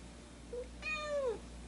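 A cat gives a short faint chirp and then a clear, rising-and-falling meow, close by in a quiet room.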